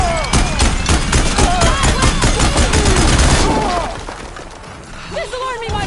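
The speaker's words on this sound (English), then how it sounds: "We're getting shot at!" Dense gunfire in the video game Horizon Forbidden West, rapid overlapping shots and impacts at high volume that ease after a few seconds, with character voices speaking over the action.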